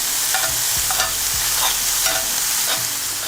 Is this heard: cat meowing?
no